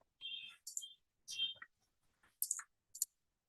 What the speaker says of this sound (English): So when you click here,